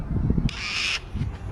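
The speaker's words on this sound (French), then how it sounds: "il y a un espèce de perroquet. Il est énorme." A huge parrot at an Australian market gives a loud, harsh squawking call of about half a second, set between bursts of low crowd murmur and background noise.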